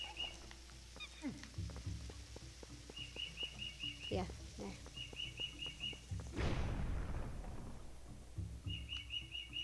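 Repeated bright bird chirps and tweets in the Forest Temple of the Zelda Twilight Princess HD video game, coming in short bursts over ambient game sounds, with a brief spoken remark and a louder rushing effect partway through.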